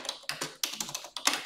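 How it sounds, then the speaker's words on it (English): Bursts of keystrokes on a computer keyboard while entering text into a Microsoft Power BI text box, several quick clusters of taps up close with brief pauses between them. "So you just start typing straight away in your text box."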